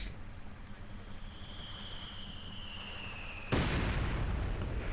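A Land Mattress rocket launcher fires in Company of Heroes 2. A faint whine drifts under low battle ambience, then a sudden loud, rushing roar of launching rockets breaks in and carries on to the end.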